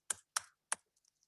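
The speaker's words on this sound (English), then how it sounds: "I'll type my email address" Three distinct, well-spaced keystrokes on a computer keyboard, then a few faint lighter taps, close and clear in a silent room while an email address is entered.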